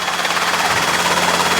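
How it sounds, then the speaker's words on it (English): A Robinson R-series training helicopter's rotor and engine thrum steadily and loudly throughout, a continuous close chopping drone with no pauses. "I look back and I see the helicopter going."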